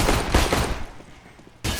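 A first-person shooter match at a competitive LAN esports event sends out a loud, dense burst of rapid gunfire up close, trailing off, then a fresh burst starts abruptly at the end.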